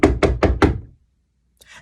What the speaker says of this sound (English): So the first thing I need you to do is knock at the door.